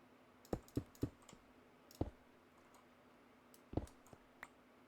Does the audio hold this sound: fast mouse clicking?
yes